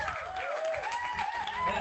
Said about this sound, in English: Lots of people cheering and clapping for you today.